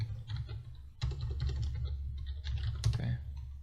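Typing on a computer keyboard: quick close key clicks in short bursts over a low steady background hum.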